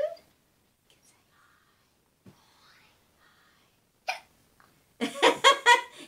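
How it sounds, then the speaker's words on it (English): A person hiccups during a speech-therapy session: a few brief, soft catches spaced apart in near silence, followed by a louder burst of voice or laughter. "Hiccup."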